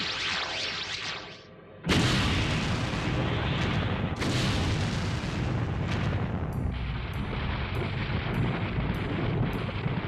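Anime effect of a reactor overloading and blowing up beneath a base: after a brief lull, sudden loud booming blasts and a sustained heavy rumble, with a second burst and a rapid series of sharp repeating pulses near the end.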